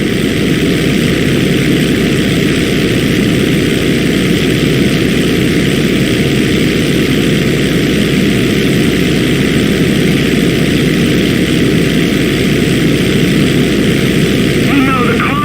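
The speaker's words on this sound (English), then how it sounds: "You know, the cargo plane's got 4 jets" A four-jet cargo plane with a 200-foot wingspan flies in GTA V, its engines giving a steady, loud, droning roar that holds without a break throughout.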